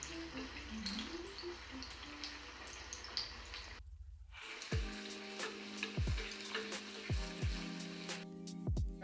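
Mango malpua pithas frying in a kadai of hot oil on low flame, a soft steady sizzle with occasional sharp pops and drips, close and quiet, with no talk.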